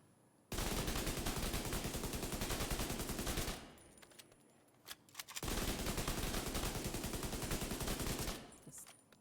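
Sustained bursts of rapid automatic gunfire from a heavy-kicking weapon in the shooter game The Division 2, two long loud volleys separated by a quieter gap with a few scattered shots.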